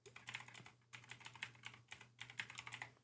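Rapid bursts of computer keyboard typing, quiet and close, with short pauses between runs of keystrokes and no voices.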